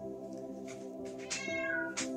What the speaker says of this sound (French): mon chat qui s'excite